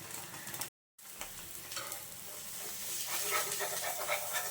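An egg fries in a pan, giving a continuous close sizzle and hiss that briefly cuts out and then resumes, steady and fairly loud.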